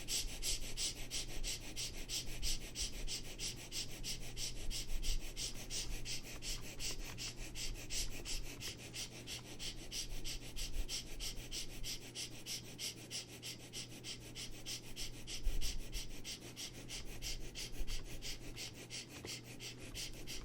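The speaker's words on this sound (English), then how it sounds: "start breathing again the same playful breath" Quick, short, playful breaths in a meditation exercise: rapid rhythmic puffs and sniffs repeat evenly over a steady low hum, close and moderately quiet, with no talking.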